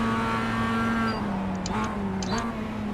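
Race cars in the iRacing sim at Charlotte pass close by, a steady engine drone with pitch shifts as they go past, a faint tire squeal mixed in, and a voice speaking low underneath.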